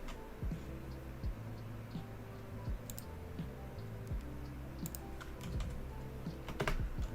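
Rapid, uneven clatter of keys on a regular-size gaming keyboard, moderately close, with irregular bursts and a few sharper clicks, played without speech.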